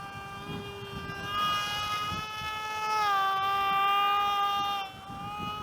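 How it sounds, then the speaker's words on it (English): A plane overhead at an outdoor RC flying session with a foamboard model, heard as a steady whining engine tone that dips in pitch and swells, then fades slightly, over light wind. "is that a plane?"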